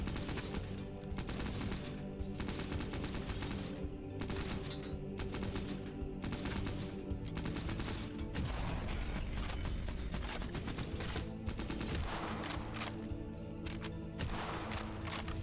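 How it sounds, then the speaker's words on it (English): Sustained bursts of gunfire from enemies shooting at each other in the video game Cultic, dense rapid shots and rattling fire running continuously over a steady loud game soundscape. "They seem to be doing a good job of shooting each other."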